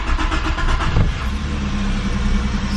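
A Holden Commodore engine, fresh from a new clutch pump being fitted, cranks and catches, then settles into a steady, loud idle close by with no talking.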